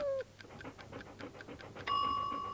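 A dog pants in quick, rhythmic breaths for about two seconds, close and fairly quiet, and then a loud doorbell ding-dong chime breaks in.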